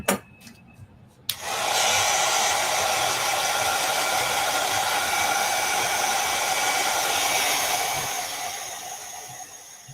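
Hair dryer blowing on a sketch, switched on with a click and then a loud steady whirring hum that holds for several seconds before easing slightly.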